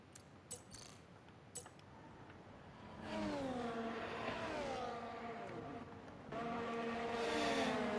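A racing car engine in a video game race at the Austria round: a whining, harmonic-rich drone rises and falls with gear changes, starting partway through and running loud and close to the end.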